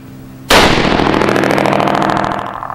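One loud .308 rifle shot through a JP Rifles muzzle brake at SHOT Show 2017, a sharp sudden crack that rings out in a long ragged reverberating echo.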